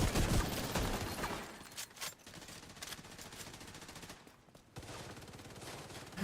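Automatic gunfire in The Division 2, loud rapid bursts of shots crackling in quick succession, thinning in the middle and returning at the end, with no talk over it.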